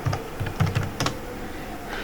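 A website address typed on a computer keyboard: a quick run of close, crisp key clicks in uneven bursts, then a pause with faint background hiss, no voices.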